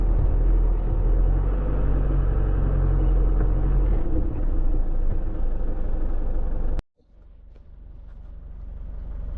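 An Isuzu D-Max with a recently fixed four-wheel-drive system, running in 4 high, drives with a loud, close engine rumble that eases and then cuts off abruptly before a quieter rumble builds again.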